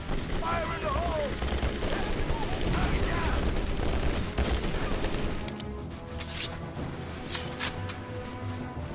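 Burst gunfire from the game Conflict: Desert Storm, with dense rapid shots and crashes for about five seconds that then drop to quieter ambient battle noise, with game voices heard during the firing.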